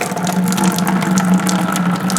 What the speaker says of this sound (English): you just let the liquid come out real slow, like that